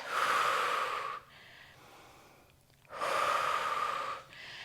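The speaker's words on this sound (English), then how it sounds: "Take a couple deep breaths here. Regulate the breath." Slow, deep breathing during a Pilates bridge exercise: two long, loud exhalations through the nose, separated by a quieter inhale, close to the microphone.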